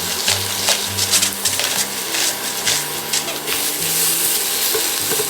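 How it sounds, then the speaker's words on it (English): Zucchini ribbons sizzle in oil in a pan with salt and pepper, a steady crackling hiss broken by the scrape and clatter of stirring, while a low hum runs underneath. "We're just going to toss those in some oil in the pan."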